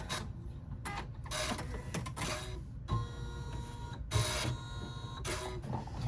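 An embroidery machine stitching with a steady, busy mechanical chatter, broken by brief pauses and short bursts as the thread cutter engages; close and continuous, with no talking.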